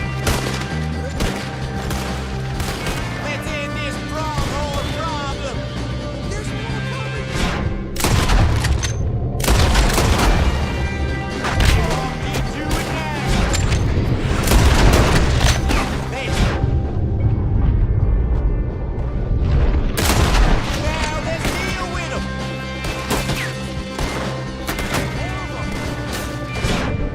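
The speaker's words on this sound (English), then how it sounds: "That was some good shooting right there." A drawn-out gunfight in the western video game Red Dead Redemption 2, with heavy, repeated shots and booming blasts in uneven bursts and short pauses between them, and voices calling out between volleys.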